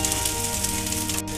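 A mixed dal dosa fries in oil on a hot pan after being flipped, giving a steady bright sizzle that holds evenly for the whole moment, with a faint hum underneath and no speech.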